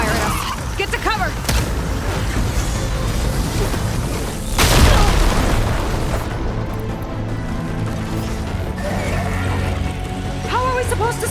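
A hostile machine in Horizon Forbidden West's Burning Shores firing artillery at the player: loud sustained rumbling barrage with a heavy boom near the middle, dense game sound and mechanical clatter throughout, with voices over it.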